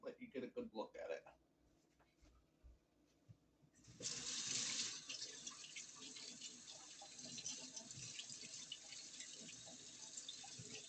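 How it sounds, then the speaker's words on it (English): A kitchen tap runs as hands are washed, a steady splashing flow that starts partway through after a stretch of talk and quieter handling sounds. "I'll wash my hands"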